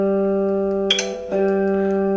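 The open G string of a Stratocaster electric guitar rings as a steady sustained note while being tuned, with two quick pluck or pick attacks partway through and the note continuing evenly afterward.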